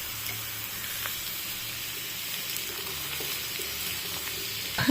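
Pumpkin slices fry in oil alongside an eggplant curry, a steady close sizzle with a few faint stirring clicks and a louder scrape right at the end.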